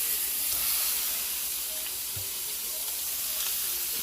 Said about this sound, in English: Now we're getting our oil already skillet. And we're gonna drop our filet mignon right in the center